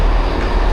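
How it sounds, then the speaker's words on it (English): A Class 158 train pulls into Sheffield station, giving a brief, loud, steady rumble with broad noise filling the whole moment and no voices over it. "let's do a little sum up with our train in the background, with the 158 arriving in as well"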